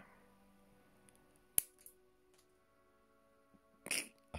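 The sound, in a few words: snip of a cut piece that pings and launches across the room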